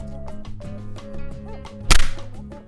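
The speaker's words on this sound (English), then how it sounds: "That slap was so loud." A sharp, loud hand slap cracks out once near the end, set against a busy background of overlapping voices and tonal chatter.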